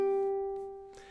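Open G string plucked on a ukulele, one clean sustained note ringing and slowly fading, close and fairly quiet, with a soft scratchy touch near the end.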